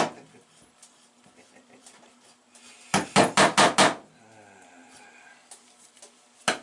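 A hammer drives nails into a beaver pelt outdoors, a quick burst of about five sharp, loud close strikes in a row. Quieter scattered taps come before and a single knock follows.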